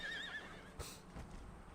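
A horse whinnies with a wavering high neigh amid a faint battlefield din of hooves, heard in an Empire: Total War battle, quietly and briefly without talk.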